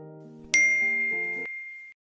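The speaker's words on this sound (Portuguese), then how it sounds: "Eita, foi meu celular." A mobile phone chimes a single clear, bright notification ding that rings briefly and fades, heard alone against near silence.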